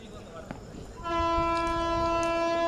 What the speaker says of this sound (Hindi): देखिए यहाँ पर भारतीय रेलवे